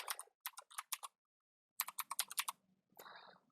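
Computer keyboard typing in a bursty rhythm: quick runs of crisp key clicks, a pause of about half a second, then another flurry, ending with a softer smeared tap sequence, close and clear with no talk.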